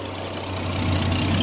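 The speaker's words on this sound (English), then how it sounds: "A little bit of noise from the exhaust" Ex-police Ford XG divvy van engine idling with a steady, loud low exhaust rumble close by, unbroken and even throughout.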